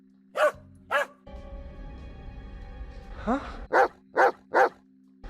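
Several sharp barks from a weird-looking dog in The Texas Chainsaw Massacre (2003), two at the start and three close together at the end, with a low rumble and a voice speaking between them.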